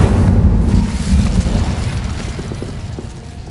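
Incendio fire spell cast in the video game Hogwarts Legacy, a loud roaring whoosh of flame that starts strong and fades steadily, dense and close.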